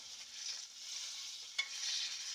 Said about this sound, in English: Make sure this is all searing evenly.